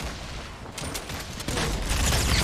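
Pump shotgun blasts in a Fortnite match, sharp booming shots layered over dense gunfire and building noise, loud and chaotic with repeated bursts toward the end.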